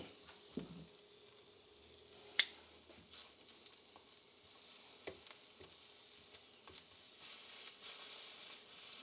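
Shrimp for spring rolls sizzle in a pan, a faint steady frying hiss with scattered pops and a few louder clicks and clanks, no talk.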